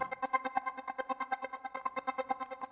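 Reason's Crescendo synth arpeggiator pulsing a held C note in a fast, steady stream of echoing repeats, soft and unaccompanied.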